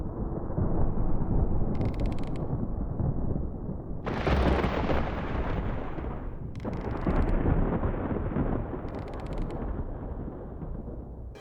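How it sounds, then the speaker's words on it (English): Rumbling thunder ambience inside a pyramid in Tomb Raider 4, a continuous deep roar that swells into louder cracking surges around the middle and fades back to a steady heavy rumble, with no talking. "the thunder ambience was quite nice"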